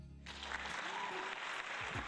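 A crowd claps in steady, dense applause that runs the whole short stretch at moderate level, with no voices standing out above it.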